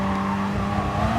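Race car engines from Renault Megane and Peugeot RCZ cars in a GT Sport daily race at Interlagos, a loud continuous drone with a steady high whine and faint tyre noise.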